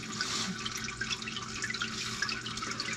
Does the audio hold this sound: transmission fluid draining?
yes